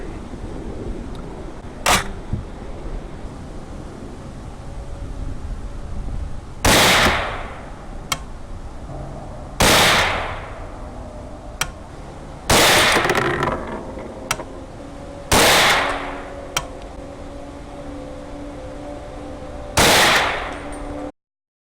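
AR10 rifle firing Monarch 150 grain soft point rounds, several loud sharp shots spaced a few seconds apart, each with a ringing decay, mixed with a few fainter clicks between them.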